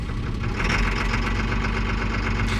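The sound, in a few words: Ford car engine revving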